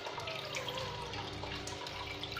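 Water from a small home aquarium filter trickles and splashes steadily through a foam sponge, a close, continuous bright babbling flow without any voices.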